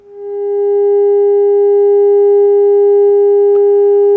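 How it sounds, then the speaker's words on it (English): A steady, loud 400 Hz test tone fed through the phono stage of a Soundesign Model 61A console amplifier hums unbroken, with a few faint clicks underneath. "I've injected a very small 400 hertz tone into the input of the phono stage"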